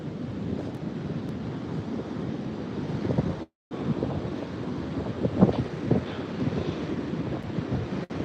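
Waves wash onto a beach in a steady, rushing roar, with heavy wind buffeting the microphone throughout and a brief dropout midway.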